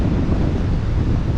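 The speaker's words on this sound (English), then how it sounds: "we can hear the waves" Ocean waves breaking on a beach on Anglesey at night, a steady low roar of surf blended with wind buffeting the microphone throughout.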